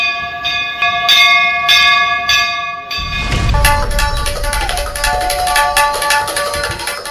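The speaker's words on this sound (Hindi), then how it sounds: "बस सेंसर के पास हाथ ले जाना है और बिना टच किए घंटा बजना शुरू" A sensor-activated temple bell that rings without being touched: loud metallic clangs repeat in a steady rhythm for a few seconds, then a deep rumbling swells beneath continued bright ringing.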